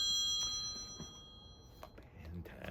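An incoming phone call rings as a bright electronic tone, steady and fairly faint, fading out within the first second or two while people murmur nearby.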